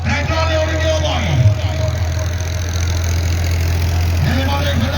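A tractor engine at a rural gathering in Punjab, Pakistan, running with a steady, low, droning idle and a faint knocking rhythm close by, while people talk over it.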